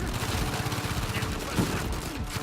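Gunfire in the video game Uncharted 4: A Thief's End, a dense, sustained crackle of shots and bursts running throughout, mixed with game noise.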